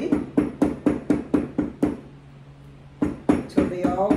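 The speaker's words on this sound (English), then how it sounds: "just hammer them ever so gently" Small candle cup holders being tapped gently into a handmade holder for taper candles and tea lights: a steady run of about nine light, evenly spaced hammer taps, a brief pause with a faint hum, then a few more taps.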